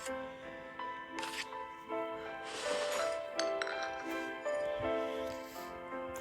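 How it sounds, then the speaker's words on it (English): A metal spoon clinks against a ceramic cup while stirring tea, a steady run of bright, ringing taps over several seconds, close and clear. "Make sure you stir it well."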